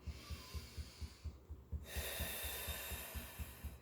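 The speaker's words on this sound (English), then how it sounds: "Taking a deep breath in" A long, deep breath drawn in during a relaxation routine, a soft rushing inhale rising to a steady airy hiss, heard close over a faint repeating low beat.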